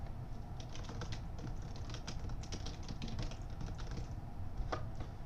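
Someone types a username and password on a computer keyboard, a quick uneven patter of key clicks over a low room hum, with short pauses between bursts and no voices.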